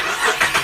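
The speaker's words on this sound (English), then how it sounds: "I'm going to start this car and cool this car down because it's far too hot in here." A car engine cranking and starting, loud and close: a quick whirring starter with rhythmic pulses lasting under a second, no talk.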